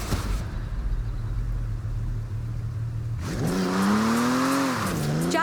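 Jaguar car in Forza Horizon 4 rumbling at a steady idle and then revving up hard through climbing gears, a loud, close engine note rising and dipping as it accelerates, with no talking.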